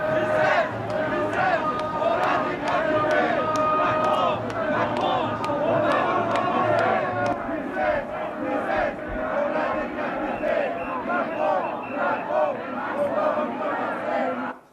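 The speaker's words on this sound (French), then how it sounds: "on a surtout entendu ce slogan qu'on entend très souvent dans les manifs et qui fait froid dans le dos" A large protest crowd chants a slogan in rhythmic unison, the loud massed voices rising and falling in steady repeated phrases, with shouting mixed in, until they cut off at the end.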